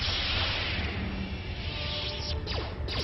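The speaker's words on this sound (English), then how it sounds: "Advanced lightsaber throw." A thrown lightsaber in the video game Star Wars KOTOR 2 fights a Sirocco thug, with a loud humming, whooshing spin over steady game noise, its swishing sweeps peaking near the end.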